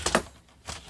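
Paper being cut for a wedding photo album page, two quick crisp snips close together, then a pause and one more cut, close and moderately loud.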